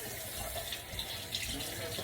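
Water runs steadily from a kitchen sink tap for hands being washed, a soft continuous splashing with light clinks and faint talk underneath.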